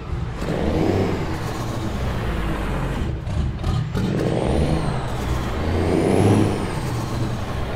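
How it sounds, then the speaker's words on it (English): Busy road traffic in a truck-driving game, a steady dense wash of car and truck engines with passing vehicles swelling and fading, occasional revving and air-brake hiss, continuous and fairly loud throughout. "Busy road."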